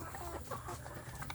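Young native free-range village chickens cluck softly and repeatedly at close range, with low farmyard background noise underneath.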